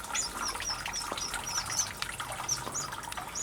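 Small Mozambique serin sings in an outdoor aviary in spring, a series of high, thin chirps and short trills repeating at a quiet, moderate distance over a soft background hiss.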